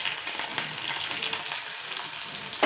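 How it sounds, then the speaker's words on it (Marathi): Onion sautéing in hot oil with cumin and mustard seeds for stuffed brinjal: a bright, steady sizzle and crackle close up, with a sharp burst of stirring at the end. "कांदा सुद्धा व्यवस्थित परतून घ्यायचा आपल्याला"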